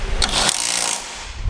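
A power tool whirs in a loud, steady burst while bolts are tightened from underneath, the motor noise starting sharply and trailing off after about a second.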